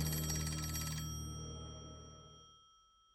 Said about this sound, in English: the phone began to ring again